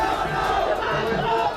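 A crowd of people in an uproar presses around Chief Minister Shivraj Singh Chouhan's car, a dense, continuous roar of shouting voices, loud and close throughout.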